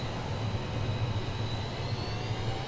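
Steady, even jet engine roar of an F-18 Super Hornet in a flight video game, a constant muffled rumble with a faint high whine and no break throughout.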